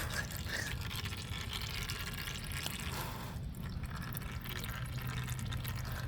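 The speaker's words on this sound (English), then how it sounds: "I'm gonna let this drain out" Engine oil drains from a Honda XL125 motorcycle into a pan, giving a continuous trickling, splashing pour that holds at a steady, moderate level throughout with no speech.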